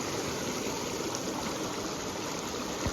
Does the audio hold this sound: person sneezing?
no